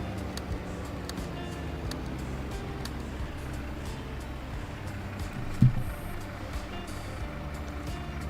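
Dump truck reversing at an intermodal construction site in Farming Simulator, its backup alarm beeping in a steady repeated rhythm over a low idling engine, with a brief air-brake hiss partway through.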